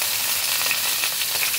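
Green beans and thick spinach stems fry in hot oil in a pan, giving a steady, close sizzling hiss that holds evenly throughout with no voices.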